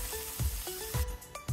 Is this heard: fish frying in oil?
yes